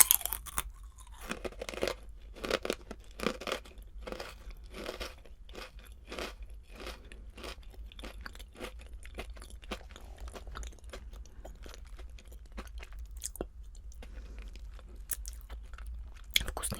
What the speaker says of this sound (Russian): Вкусные чипсики, когда жуешь, такие обычные, немножко пряные